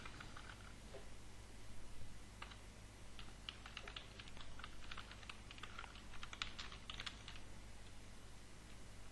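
A computer keyboard is typed on in quick, uneven runs of light clicks over a low steady hum, quiet and close, with no talk.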